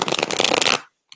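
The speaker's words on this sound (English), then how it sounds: "I'm going to do one more big shuffle for you." A deck of tarot cards is riffled in one quick, loud, dense burst of flapping that stops abruptly, followed by a short tap.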